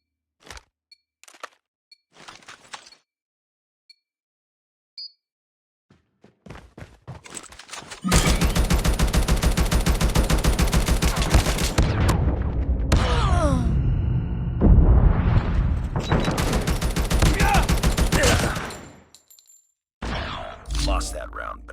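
A video game gunfight opens with a few sparse clicks and taps, then erupts into a loud, sustained burst of gunfire lasting about ten seconds. It stops, then resumes briefly.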